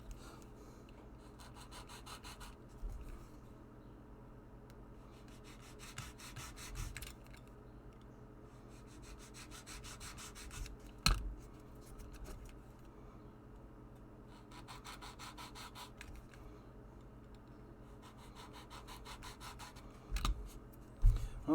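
A blade rasps gently around a LARP rapier to cut an even groove, giving faint, repeated scraping strokes in short bursts separated by quiet pauses, close by and soft.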